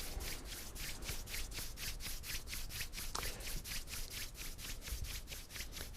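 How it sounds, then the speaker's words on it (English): Palms are rubbed briskly together at a winter solstice celebration, making a steady run of about twenty even, whooshing strokes over six seconds, soft and close, with no voices. "And then rub your hands"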